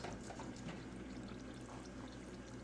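Hot pepper oil being poured out of a pan makes a faint, steady liquid trickle and splash that carries on throughout.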